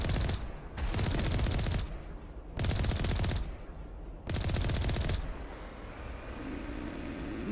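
Bombs exploding in Mass Effect Legendary Edition: three heavy, roaring bursts about a second long each come in regular succession, then give way to a lower rumbling hum.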